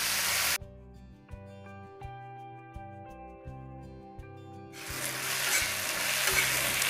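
Onions fry in a pan with a bright steady sizzle that cuts in after a short quiet stretch of music, growing louder and denser toward the end.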